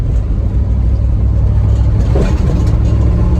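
A Ford Bronco drives along in Alaska with a loud, steady low engine and road rumble throughout, a brief mid-range surge near the middle, and no talk.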